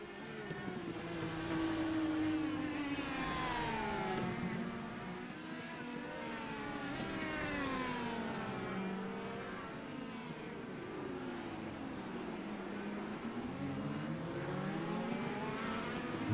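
Race cars on the Long Beach street circuit howl past in a continuous chain, engine notes rising and falling in pitch as cars accelerate, shift and go by at moderate distance.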